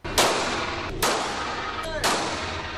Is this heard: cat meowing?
no